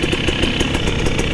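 A Gas Gas TX300i two-stroke dirt bike engine idling, a steady loud buzzing putter with rapid regular firing pulses, close up and alone.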